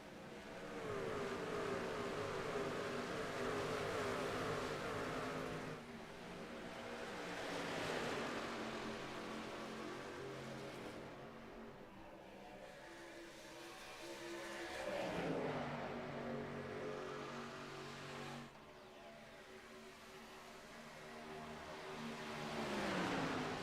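Several race trucks accelerate on the Las Vegas oval in iRacing's Truck Series, a dense roar of engines rising and swelling in long waves as the pack passes, loud and steady with no talk over it.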